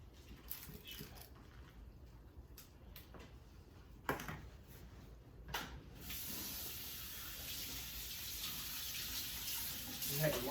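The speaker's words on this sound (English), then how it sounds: "You have to wash your hands because you get your hands nasty and that stuff." A kitchen water tap runs while hands are washed, starting with faint intermittent splashes and then a steady, close hiss of flowing water for the last several seconds.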